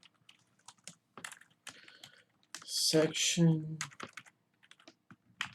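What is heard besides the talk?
typing code on a computer keyboard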